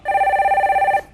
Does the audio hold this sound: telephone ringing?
yes